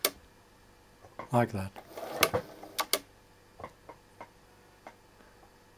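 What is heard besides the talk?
Bernina 910 sewing machine running and stopping with needle stop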